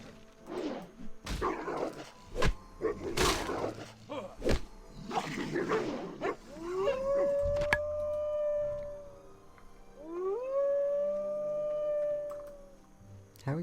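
A wolf in World of Warcraft: Wrath of the Lich King howls twice, long rising-then-steady cries that sound after a stretch of speech and thumps, with voices talking at the start.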